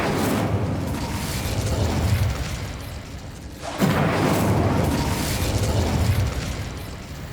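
Confringo explosive spell cast in the video game Hogwarts Legacy, heard as loud fiery bursts and booms with rumbling decay, one blast near the middle after a brief lull, over continuous game ambience.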